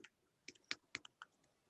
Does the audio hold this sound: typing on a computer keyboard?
yes